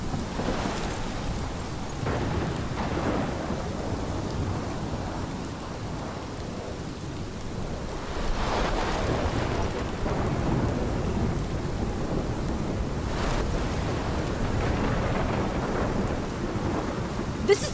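A heavy thunderstorm from the game Life is Strange: steady loud rain with rolling thunder swelling several times across the stretch, no voices.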